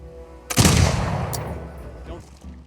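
Line infantry volley in Humankind, a sudden loud gunshot crack followed by a rolling, decaying roar of gunfire and a few smaller reports trailing off.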